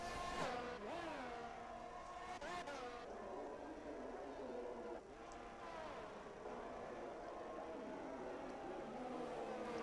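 Race car without its front wing circling a Spain track in a racing video game, with a steady, moderately quiet engine drone that rises and falls in pitch.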